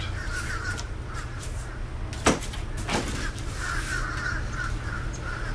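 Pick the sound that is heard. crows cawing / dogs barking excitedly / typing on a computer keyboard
crows cawing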